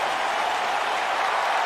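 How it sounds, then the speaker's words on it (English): A large wrestling crowd at an Empire Wrestling show cheers and claps in a dense, steady roar that fills the whole moment without letup. "Just listen to this place. Oh, it's loud and active."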